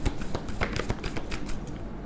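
Tarot cards being shuffled by hand, a dense run of quick papery riffles and flicks repeating close up for about two seconds with no talk.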